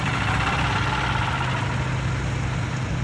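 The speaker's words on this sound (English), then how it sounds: "That's a nice little tractor right there." An Allis-Chalmers vintage tractor idles steadily at an outdoor tractor show, a constant low, rumbling engine drone with no change in pace and no voices.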